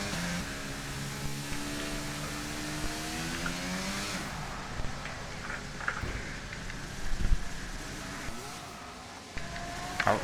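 Formula 1 race cars on track in the F1 22 video game at Saudi Arabia, a continuous high engine whine with shifting revs and gear changes, steady and fairly loud with brief bumps and wind-like noise.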